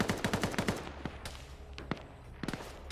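Arma 3 gunfire: a quick rhythmic burst of automatic fire up front, then scattered single shots and distant cracks under a low rumbling backdrop, moderately loud, no talking.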